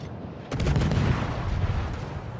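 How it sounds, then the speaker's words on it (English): Heavy naval gunfire from the cruiser Smolensk in World of Warships, a loud booming salvo that breaks in suddenly and rolls on as a dense, rumbling barrage with crackling echoes, no speech over it. "the Smolensk's blind shooting is getting better here"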